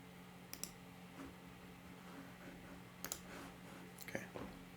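Several sharp mouse clicks at a computer, sparse and fairly faint, spaced a second or so apart over a steady low electrical hum, with no talking.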